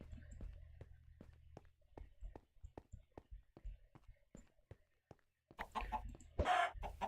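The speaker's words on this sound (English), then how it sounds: "Aside from the slight chicken infestation." Chickens cluck in a steady run of short, sharp calls inside a building video game, then a louder burst near the end sounds like a rooster crowing.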